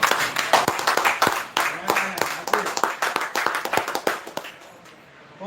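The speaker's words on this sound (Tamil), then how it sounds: "ஒரு உற்சாகமான ஒரு பாராட்டு." An audience at an evening gathering claps, with dense, lively applause that goes on steadily and fades near the end.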